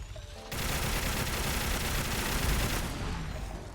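DSHK heavy machine gun firing in a sustained, dense burst at an Alpha Deathclaw in a Fallout 4 mod, roughly two seconds of continuous loud automatic fire that stops abruptly.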